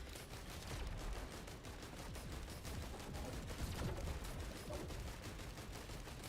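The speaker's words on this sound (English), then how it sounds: "that's literally the sound of a turret" Turret firing in Risk of Rain 2, a rapid, continuous stream of crackling shots at steady volume, dense and unbroken for several seconds with no talking.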